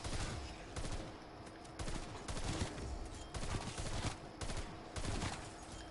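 Hip-fired bursts in a Call of Duty Black Ops Cold War zombies match on PS4 form dense, loud repeated volleys of rapid gunfire, broken by brief gaps, with no talking.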